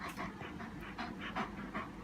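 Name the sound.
German Shepherd dog panting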